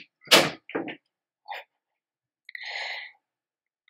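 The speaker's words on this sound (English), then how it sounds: "I heard the door close." A door closes in a few short separate knocks and thuds, followed by a brief softer rattle, all close by in an otherwise quiet room.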